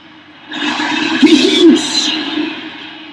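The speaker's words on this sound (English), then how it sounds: "Train is actually right in front of me." A train passing close by, a broad rumbling roar that swells after the first half-second, peaks in the middle and stays loud to the end.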